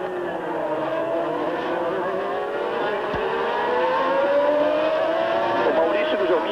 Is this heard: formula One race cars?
yes